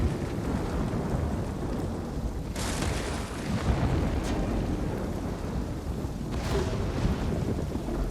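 Thunder from a lightning storm in the Ghost of Tsushima video game rolls over steady heavy rain, with two loud bright cracks of strike standing out from the constant wash of downpour.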